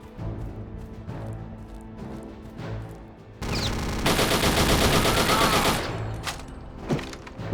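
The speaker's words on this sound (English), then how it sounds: "Oh, that man had a chain gun." A chain gun in RealRTCW opens up in a dense, sustained burst of rapid fire lasting about three seconds, loud and continuous over a low rumbling game background.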